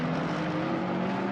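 A race car in a sim racing game at Imola roars steadily and loudly as it enters the pits, a dense, constant engine drone with no talk over it.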